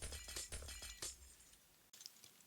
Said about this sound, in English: Then you're going to want to break all the blocks below this little platform